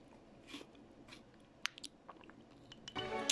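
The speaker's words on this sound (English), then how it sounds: "You can spoon some of this and it's literally crunchy. Listen to this crunch" Spoonfuls of super-cold frozen cocoa full of ice crystals crunch in several close, crisp bursts, getting denser toward the end, with no talking.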